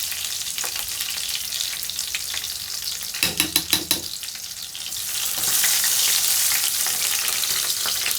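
Green chillies and curry leaves sizzle in hot oil for a Telugu stuffed brinjal (gutti vankaya) curry, a steady close frying hiss with a brief burst of clattering stirs midway before the sizzle swells louder; no talking.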